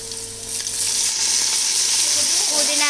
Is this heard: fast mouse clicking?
no